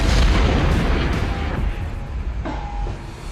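Artillery round fired from an AC-130 gunship, a single heavy deep boom at the start that rolls off into a long rumbling decay, loud and alone.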